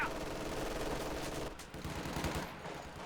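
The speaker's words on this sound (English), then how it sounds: "He got a machine gun into the church." Machine gun fire in a 3vs3 World War II strategy match, with a sustained dense clatter of automatic shots mixed into steady battle noise, loud and continuous before easing slightly.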